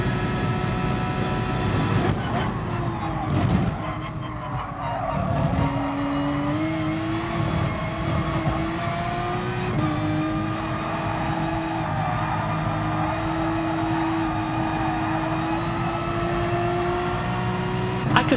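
Race cars roar through a lap in the GT Sport racing game, a steady engine drone with rising and falling pitch sweeps as gears shift, continuous and fairly loud throughout with no talking.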